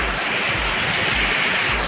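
Rushing water of the waterfall at Kurudkute picnic spot, Deogarh, a loud continuous roar close by, punctuated by dull low buffeting thuds at regular intervals.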